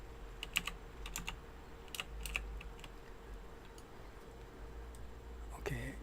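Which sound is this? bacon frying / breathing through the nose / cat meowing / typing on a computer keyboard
typing on a computer keyboard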